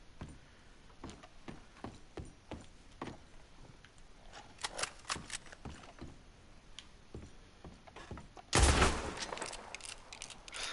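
Gunfire in Red Dead Redemption 2, a steady scatter of sharp distant shots throughout that thickens into faster volleys, then one loud close blast near the end.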